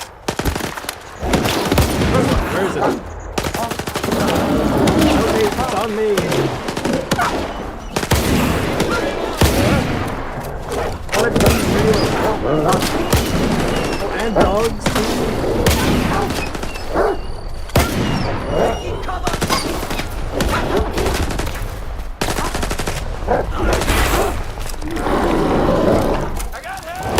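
Bursts of gunfire crackle repeatedly in the STALKER 2 video game, loud rapid volleys mixed with roaring noise and frequent shouting voices throughout.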